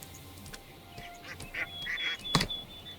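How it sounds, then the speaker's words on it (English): Duck call from the video game Hytale, a few short honking quacks in the middle and a louder burst near the end over a steady game ambience. "Duck."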